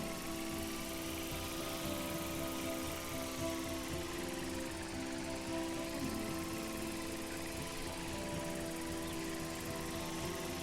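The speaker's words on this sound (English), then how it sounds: "give the drone a whirl around campus" A small drone in the video game Life is Strange whirs around a campus, a steady buzzing rotor drone with a faint warbling pitch that holds evenly and fairly quietly throughout.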